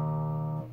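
A single guitar note tuned to open E flat rings steadily and sustains for a moment, then its tone changes slightly near the end.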